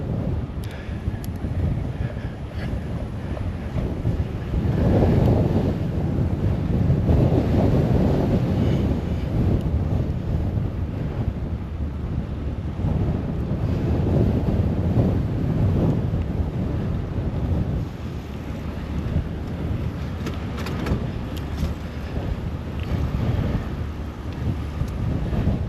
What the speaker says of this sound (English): With this wind, nobody.